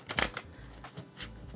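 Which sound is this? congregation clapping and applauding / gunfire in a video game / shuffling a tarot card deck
shuffling a tarot card deck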